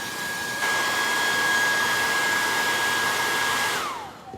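A hair dryer blow-drying sewn fabric runs loud and steady with a constant airy rush and a thin whine, then winds down as it is switched off near the end.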